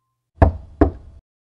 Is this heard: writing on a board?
no